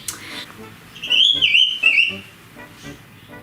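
A pet bird chirps and whistles in short high warbling phrases, moderately loud and close, over a quiet room, with a person's voice faintly present.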